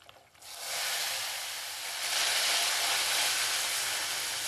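Hot coconut oil tempered with popped mustard seeds, broken dried red chillies and curry leaves is poured into tamarind-ginger puliyinji in a clay pot, giving a loud, steady broadband sizzle that surges after a brief quiet start and hisses on without talk.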